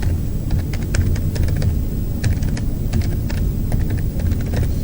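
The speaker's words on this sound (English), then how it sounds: "So I'm just typing in something like testing for keylogger." Rapid clicks of a computer keyboard come in irregular bursts of keystrokes, close and distinct over a low steady hum.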